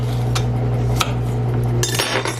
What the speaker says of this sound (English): And I'm just going to slice through.